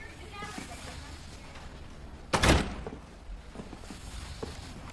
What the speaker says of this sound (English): Get in here and close the door.